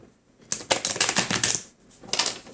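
Tarot cards being handled and laid down, giving quick bursts of crisp, papery clicking. A long flurry is followed by a pause and a second, shorter burst, close and fairly quiet.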